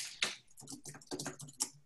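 Rapid typing on a computer keyboard, a dense, uneven patter of close clicks and taps lasting under two seconds.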